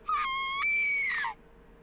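A single piercing, high-pitched scream from the young girl Illya in the anime Unlimited Blade Works, wavering and strained, starting abruptly, holding for just over a second, then cutting off into silence.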